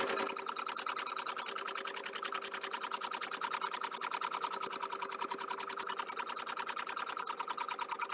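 A push-button sewing machine with no foot pedal runs steadily, a rapid, even mechanical whirring and ticking of the needle held close and constant throughout, no speech.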